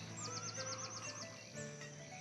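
A horse neighs in a village-building game set in a farm settlement, a quick warbling whinny that rises and falls in rapid pulses, faint against a low ambient bed with a brief second call after.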